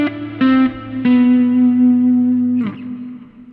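Single notes plucked on an electric guitar's open A string in a finger-picked blues, each note ringing out with controlled vibrato and a reverb tail, three or four distinct sustained tones with no talk.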